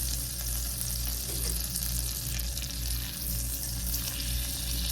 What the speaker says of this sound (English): 12-inch cast iron skillet on about medium heat, and to that we're going to add 1/4 of a cup of butter